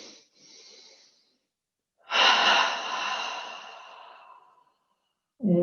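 Deep breathing in a yoga session: a short soft breath, a pause, then a long loud exhale that tapers away, before another breath starts; close and unaccompanied by talk.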